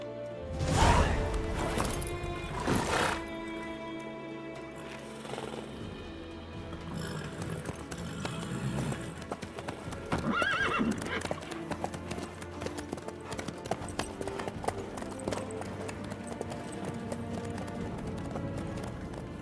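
Horse hooves clip-clopping in the video game The Witcher 3, a steady trotting rhythm with occasional heavier thuds and swishes, continuing for the whole stretch under layered game ambience and music.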